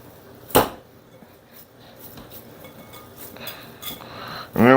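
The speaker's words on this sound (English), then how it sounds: "I kind of drop it in the bowl a little hard, press it against itself" Ground beef meatloaf mixture dropped hard into a mixing bowl lands with a single sharp thud near the start, followed by quiet handling noise and a brief voice at the very end.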